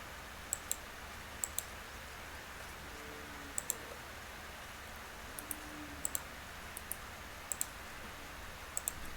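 Sharp, light mouse clicks while aligning elements in Revit, coming singly and in quick pairs at irregular intervals over a faint steady room hiss.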